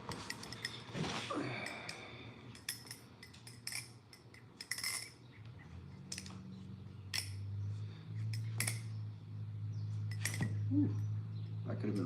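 A balisong butterfly knife with tang pins flipped by hand, giving sharp metallic clacks and clinks that come in irregular bursts, close and fairly loud over a steady low hum.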